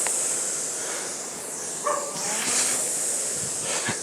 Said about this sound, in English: Next door have a dog, you may have guessed.